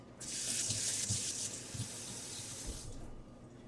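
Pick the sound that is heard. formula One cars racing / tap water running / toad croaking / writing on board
tap water running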